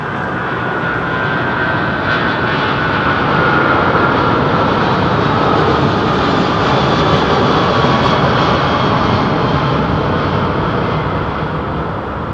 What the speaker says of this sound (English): Atlantic, somebody on a Virgin jet